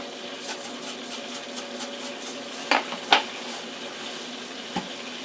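Margarine melting and sizzling in a pan with salt added, a faint steady frying hiss punctuated by a few sharp clinks of a utensil against the pan.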